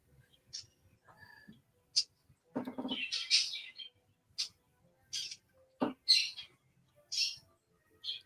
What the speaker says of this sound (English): Your bird's getting crazy.